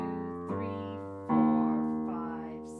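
Low B flat, the second B flat up from the bottom of a piano, struck three times with sustained, slowly decaying tones, near and clear, with a few higher notes in between and no voices.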